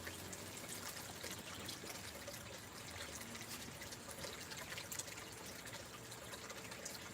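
Water recirculated by a 1,100 gallon per hour 12-volt bilge pump flowing through a gold prospecting sluice, a faint, steady trickling and splashing outdoors with no talk.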